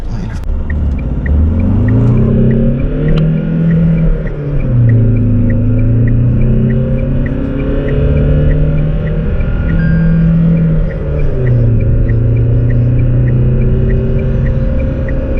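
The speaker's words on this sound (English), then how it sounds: "ಈಗ 0 to 100 acceleration ನೋಡೋಣ ಎಷ್ಟು ಬೇಗ ಕಾರು 100 ರೀಚ್ ಆಗುತ್ತೆ ಅಂತ" Tata Harrier SUV accelerating hard from standstill in sport drive mode, a steady deep engine drone rising in pitch through gear changes with brief dips between shifts, heard loud from inside the cabin, with faint regular ticking in the background.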